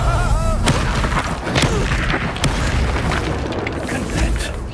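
Magic spell blasts in Hogwarts Legacy, a rapid series of loud booms and bursts thudding close together over busy combat noise with a voice calling out spells.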